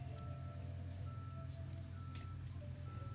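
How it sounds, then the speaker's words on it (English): A truck backing up, its reversing beeper repeating steady high tones over a loud, constant low engine rumble nearby. "Oh man, I wish that truck wasn't backing up so much."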